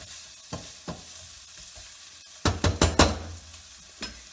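Poulet basquaise, chicken cooked with peppers, sizzles steadily in a pan, with scraping clacks from stirring at irregular moments, including a cluster of several in a row, heard up close without talk.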